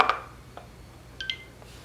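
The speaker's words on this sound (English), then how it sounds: "Now you can hear that sound that said connected." Soft electronic chimes from an iPhone pairing with AirPods 4: a brighter two-note ding at the start, a faint tick, then a quick pair of clear tones near the end, all quiet and close with no talk.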